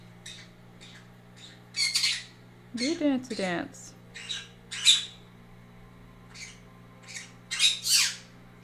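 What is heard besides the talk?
baby birds squawking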